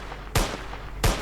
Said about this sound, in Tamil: எக்ஸாம்பிளுக்கு டீரெக்ஸை சுட்டு காமிக்கிறேன்